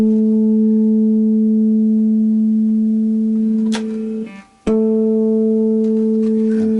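A plucked A string on a refurbished Encore Strat-style electric guitar rings out with a steady sustained tone, briefly cut off and changing pitch as the tuner is turned, then ringing again.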